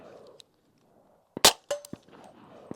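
A Q Honey Badger rifle fires one sharp, loud shot, followed moments later by a metallic clack of the action, with quiet handling noise around it.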